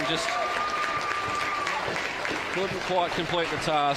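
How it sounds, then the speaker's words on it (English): A crowd at a women's AFL grand final applauds and cheers the Penrith Ramettes. The clapping carries on as a steady outdoor wash beneath a commentator's voice, with a whistle heard early on. "Crowd shows their appreciation from the girls from Penrith"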